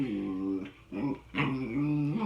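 A small dog growls and whines while playing, close and fairly loud, in two or three rumbling, rising bursts with short pauses between.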